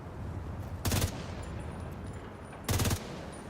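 Two short bursts of rapid automatic fire from a sniper turret in the shooter game The Division 2, each lasting about a quarter second and well separated, over a low steady background rumble.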